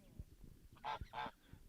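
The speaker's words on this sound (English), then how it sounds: "The bigger goose just got chased out of the" Two loud nasal honks from a goose being chased sound in quick succession amid soft scuffling and thumps nearby.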